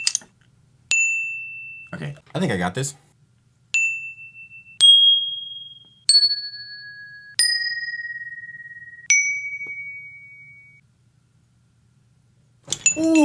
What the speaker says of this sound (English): Let's see what one chime looks like.